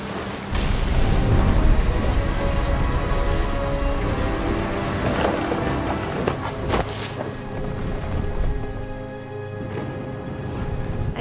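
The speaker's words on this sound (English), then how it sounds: "Thunder sounded much too close and full of angry power" Thunderstorm in the video game What Remains of Edith Finch: steady, heavy rain hisses without a break, and low rumbling swells beneath it.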